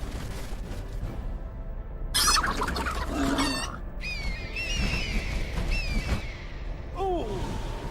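Chicken clucking and squawking in the fantasy strategy game Age of Wonders 3, several bursts of bird calls rising over steady game background noise, with no talking.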